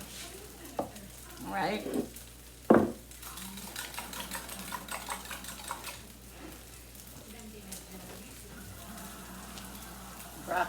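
Chicken fried rice with vegetables, eggs and chicken sizzles in a hot pan, with a steady frying hiss broken by scraping stirs and a couple of sharp clanks, while a voice speaks briefly.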